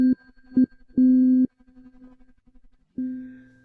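A sustained musical C note sounds in short separate bursts, three brief tones and one longer held tone, then a final tone after a pause, clear and steady with a faint hum in between, like Morse code.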